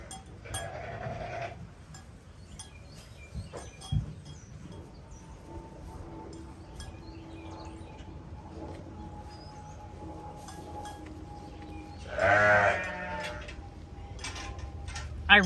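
A first-time ewe and her newborn lamb bleat in a barn, with short calls near the start and a louder, wavering bleat later, separated by quiet stretches with faint knocks.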